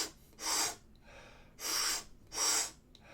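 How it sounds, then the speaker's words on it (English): Circular breath work demonstrated with three loud, airy breaths in a steady rhythm, each about half a second long with short pauses between, close to the listener with no talking. "I like to do something called transformational or also called circular breath work"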